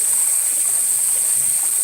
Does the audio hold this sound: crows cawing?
no